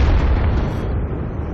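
A heavy tank cannon shot from a World of Tanks battle erupts into a loud, rumbling boom that rolls on with dense low-end thunder and slowly tapers off.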